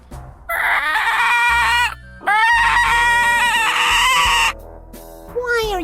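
A cartoon chicken character from the adventure game Al Emmo lets out a string of loud, drawn-out squawks in several long bursts, close and prominent, with brief pauses between them.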